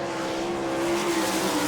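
A Schnee chassis sprint car, the Denny Ashworth-owned number 92 driven by Danny Smith with a Kreiner engine, roars steadily at full throttle through a qualifying lap on a dirt track at Rossburg, Ohio, loud and sustained.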